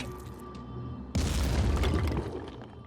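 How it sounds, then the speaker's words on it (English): A grenade launcher round in the tactical game Phoenix Point detonates with a sudden heavy boom and crackling debris, rumbling for about a second before fading into a low background hum. "That was a significantly more effective grenade launcher."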